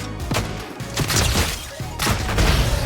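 Stake launcher fired repeatedly in a Fortnite match, a string of loud punchy thumps and crashes roughly every second, cracking sharply over a constant game-mix background with no one talking.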